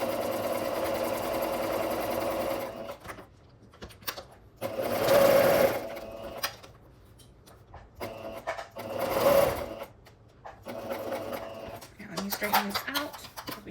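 A sewing machine stitches around a garment pocket and back stitches, running in bursts separated by quieter pauses and handling noise, with someone talking over and between runs.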